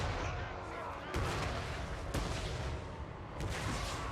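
Artillery fire in the battle game Total War: Warhammer 3, a dense, continuous roar of distant booms and crashes with sharper blasts cutting through, loud and sustained throughout, with a voice faintly mixed in.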